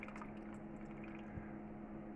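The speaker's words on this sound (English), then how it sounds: "add some water" Water pours into blackcurrant pulp with a steady liquid trickle and gurgle, close and quiet, running continuously throughout.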